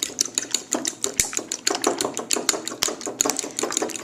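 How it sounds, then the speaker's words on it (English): Three whole eggs are beaten in a bowl for gluten-free bread, a fork or whisk clicking and tapping rapidly against the bowl in quick, irregular bursts, close and crisp, with no talking. "I am going to beat 3 whole eggs, so the yolks and the whites."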